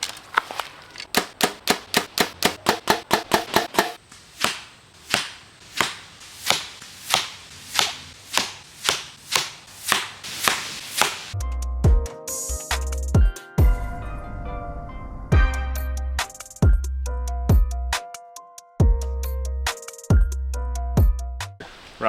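Arrows with field tips, then helical and fixed-blade broadheads, shot into a target at 40 yards: a rapid series of sharp, evenly spaced impacts, followed by a stretch of music with a few scattered hits.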